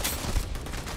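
Gunfire in the space game Starfield, a dense, loud burst of rapid shots and booming impacts filling the whole second with no pause.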